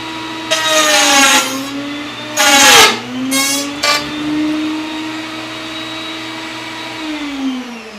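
A wood router cuts a second pass through a jig for wood joints: a loud, steady high motor whine runs throughout, broken by three louder bursts as the bit bites into the wood, with the pitch dipping and recovering after each cut.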